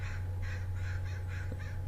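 Repeated harsh bird calls, about five in a steady rhythm, from an eagle chasing a seagull over a golf course, played back from a recording over a constant low hum.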